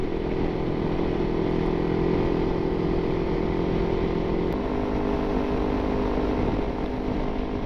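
A 2015 Kawasaki Ninja 300 motorcycle being ridden: a steady, dense engine drone mixed with rushing wind noise, loud and continuous throughout, with a slight shift in tone partway through and no talking.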